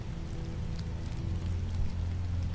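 Steady rainfall in The Wolf Among Us, a dense, even patter of drops on surfaces with a low rumble underneath, continuous and moderately loud throughout.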